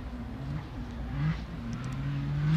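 Nissan GT-R drift car on Achilles tires, out on track at a St. Louis drifting qualifying event: a steady, loud engine drone with a wavering pitch as the revs climb and dip, heard throughout.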